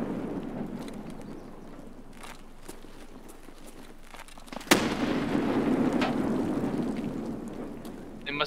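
Grenades detonate in Escape From Tarkov, one sharp close blast standing out midway over a rumbling, crackling background of other muffled distant bangs.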